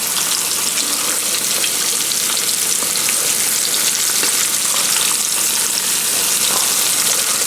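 Catfish frying in a pan with soft fried potatoes, a dense, loud, continuous crackling sizzle of hot oil that stays steady from start to end with no one talking.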